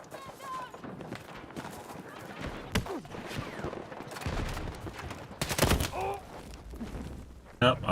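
Automated turret fire mixed with other gunshots in the Battlefield 6 video game, coming as short bursts and sharp single cracks over a busy battlefield background, with one loud rapid burst near the middle.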